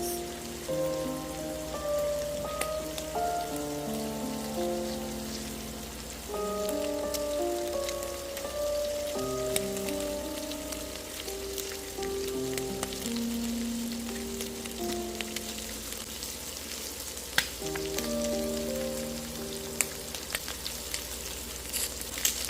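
Protein sears in a hot pan until crispy, a steady close sizzle and crackle heard under soft background music that runs throughout with no talking.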